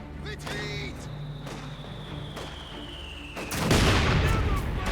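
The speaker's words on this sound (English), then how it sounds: "there we go, mortar firing away" Mortar firing in the game Company of Heroes 2: a sustained booming roar builds and swells into a loud, dense blast near the end, layered over ongoing battle noise with a high whistling tone, no talking.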